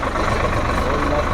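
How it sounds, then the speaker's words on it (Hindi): A Swaraj tractor engine runs at a steady idle, a loud continuous low rumble with no change in pitch, heard up close in the open on a farm at dusk. "ये हो गया अपने यहाँ पर ट्रैक्टर चालू"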